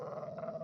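Bone dogs in the game Kenshi give a low, rumbling growl, sustained and fairly close, brief and with no talking over it.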